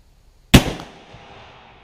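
A single sharp gunshot from a Jukar .45 caliber Kentucky muzzleloading rifle loaded with double patches, fired downrange. A loud close boom is followed by a short rumbling decay.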